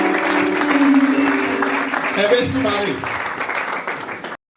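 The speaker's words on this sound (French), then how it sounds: "Elles ne sont pas applaudies très fort." An indoor audience claps in a sustained round of applause that fades toward the end, while a voice speaks over it briefly.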